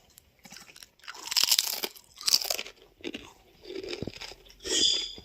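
Potato chips crunch loudly up close in several separate bursts of biting and chewing, with short quiet gaps between the crunches.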